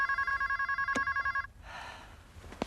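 A telephone rings with a rapid trilling electronic bell, a clear close burst lasting about a second and a half, followed by room noise and a brief knock.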